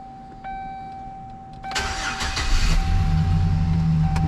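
A Chevrolet Silverado truck engine cranks and starts after a fuel pump install, with a quiet hum first, then a sudden loud catch at about two seconds that settles into a steady, close idle.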